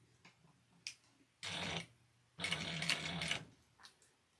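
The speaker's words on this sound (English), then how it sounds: "I'm going to increase my stitch length to a 4 because I'm sewing on leather" A sewing machine stitching leather at a stitch length of 4, running in two short bursts of rapid mechanical stitching with faint clicks and ticks of handling between them.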